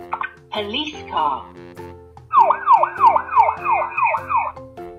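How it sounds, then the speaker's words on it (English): After a few brief sounds, a police car siren yelps in a fast, repeating rising-and-falling wail for about two seconds, loud and close. "Police car."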